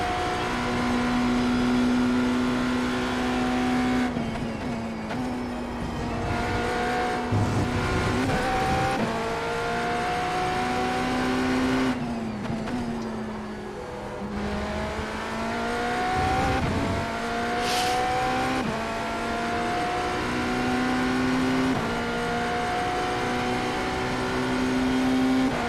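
A GTE race car in iRacing at Road America, its engine droning and revving through gear changes with the rear tires spinning on corner exit, loud and close for the whole stretch, no talk over it.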